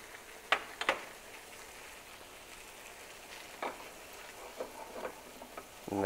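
Butter and parsley sizzling in a frying pan as pappardelle amatriciana is made, a faint steady crackle with occasional sharper pops and stirring clicks close by, and no talking.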